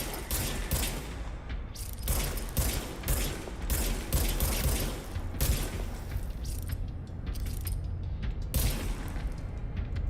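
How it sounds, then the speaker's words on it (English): Rapid bursts of video game gunfire with mechanical clatter and creaks, dense and loud throughout, shots overlapping in quick fusillades with no voices. "Now I have a gun."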